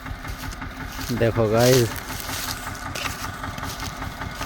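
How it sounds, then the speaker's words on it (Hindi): A tractor engine chugs steadily in a low, continuous idle throughout, with a voice briefly speaking over it near the middle. "देखो ट्रैक्टर कैसे चलेगा, किस तरीके से चढ़ेगा"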